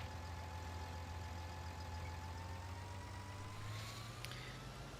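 A Farming Simulator 19 tractor pulling a cultivator drones with a steady engine hum, its pitch rising slowly toward the end, continuous and fairly loud with no one talking.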